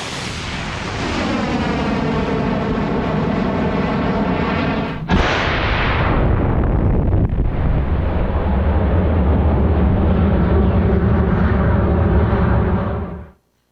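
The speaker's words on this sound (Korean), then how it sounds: "발사 동영상을 잠시 보시겠습니다" A launch vehicle lifts off with a deep, loud rocket roar. It begins with a rising harmonic rumble, cracks sharply partway through, then holds a thick, sustained thunder before cutting off abruptly.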